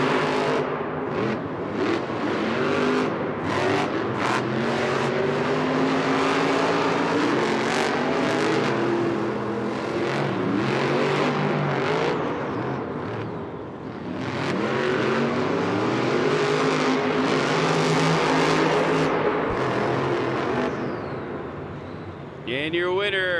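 Monster trucks race side by side on a stadium floor in Minneapolis, engines roaring and revving loudly and continuously, with an announcer talking over the noise throughout.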